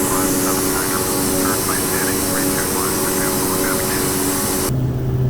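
Carenado Dornier Do 228 propeller aircraft flying in the FSX simulator, a loud continuous engine drone with faint voice-like chatter beneath it, cutting abruptly to a quieter, different tone near the end.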